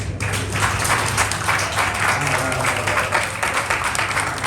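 An indoor audience at a sake tasting claps in dense, continuous applause for several seconds at close range.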